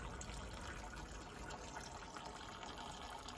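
Fluid drains from an old Fordson Major diesel tractor into a bucket as a faint, steady liquid trickle and gush over a low background rumble, with no talking.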